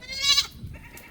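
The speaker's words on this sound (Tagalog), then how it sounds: "Nagagalit po yung kambing natin." Goat on a small farm letting out a single short, strained bleat, fairly close, followed by a low grunt-like murmur, no talking.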